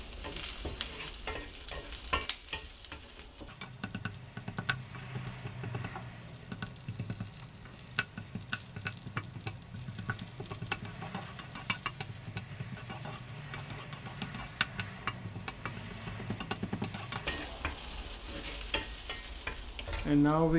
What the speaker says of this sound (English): fry these onions, and as you see, when they start to fry, the layers will start to separate